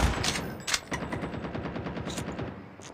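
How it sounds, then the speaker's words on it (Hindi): Bursts of automatic gunfire in a solo-versus-squad shooter game, with a tank nearby, rattle rapidly and steadily for the whole stretch, with a few sharper cracks standing out over the dense, close firing. "गाइस मुझे उधर से फायरिंग की आवाज़ भी आ रही थी"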